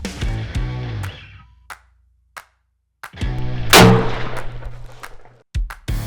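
A rifle fired from shooting bags lets out one loud, sharp crack amid several lighter knocks and clacks, with short ringing tails and stretches of silence between them.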